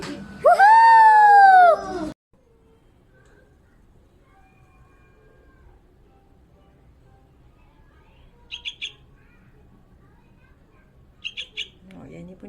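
A young bird near its nest gives a loud burst of chirping calls at the start, followed by quiet and a couple of brief faint high chirps later; speech is present.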